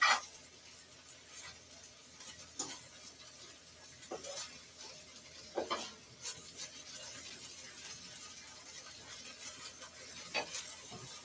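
Saltfish sizzles gently in a pan and is stirred at intervals, with soft scraping strokes and faint crackling frying throughout, fairly quiet and with no talking.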